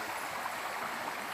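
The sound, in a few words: river flowing along the Bruce Trail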